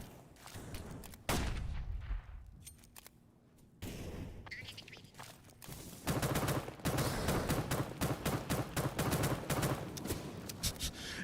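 Rapid bursts of gunfire from a Counter-Strike match crackle in quick succession, with sharp shots clustering loudly in the second half and a few isolated pops earlier, as a voice talks over the action.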